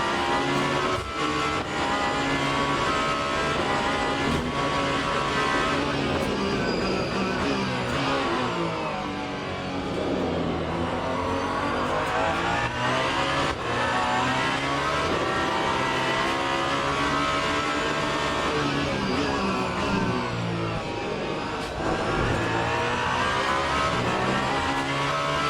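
Alpine race car at Sebring in Le Mans Ultimate, its engine droning and revving continuously through gear changes and rising, falling pitch sweeps for the whole stretch, loud and close with faint tire noise.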